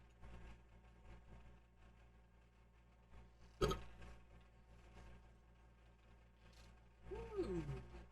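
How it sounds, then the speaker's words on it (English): A single short, abrupt burp from a video game character rises over a low, quiet background hum, followed near the end by a brief voiced sound. "I got burps."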